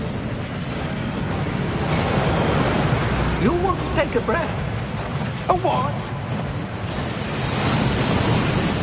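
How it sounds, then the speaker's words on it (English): A waterfall in the Gringotts vault of the video game Hogwarts Legacy rushes as a steady, broad roar throughout. Voices speak briefly over it in the middle. "That waterfall washes away all enchantments."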